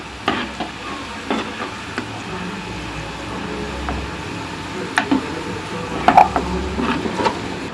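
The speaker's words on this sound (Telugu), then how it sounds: "చూసారండి, బాగా డీప్ ఫ్రై అయిపోతున్నాయి." Sweet potato pieces deep frying in hot oil, a steady sizzling bubble with occasional stirring clicks and scrapes, loud and close with no talking.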